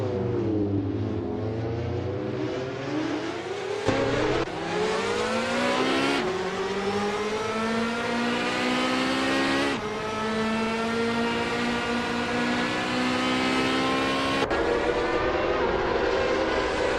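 Ferrari F355 Challenge race cars scream through a video game race from 1994 Ferrari lineup, engines loudly climbing through the revs with abrupt gear shifts, steady and continuous with no talk.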